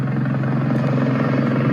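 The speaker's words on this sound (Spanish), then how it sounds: "Hay un video que se conoce y que se difundió en las últimas horas que muestra al helicóptero" The helicopter carrying Kobe Bryant flies overhead, its rotor giving a loud, continuous, rapidly pulsing drone that stays steady and close throughout with no voices.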